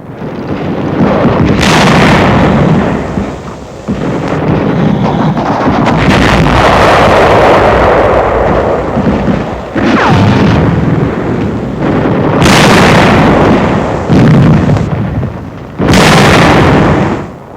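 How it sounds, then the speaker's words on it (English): Wartime combat in 1945 as a shell strikes a German tank: loud, distorted booming explosions and artillery fire rumble continuously with repeated heavy blasts, harsh and overloaded, no voices. "Jerry tank suffers a direct hit, and the crew leaps from the flames"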